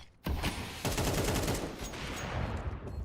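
Rapid automatic gunfire in a competitive esports shooter match, loud and dense, rattling almost without pause for about three seconds after a brief quiet start.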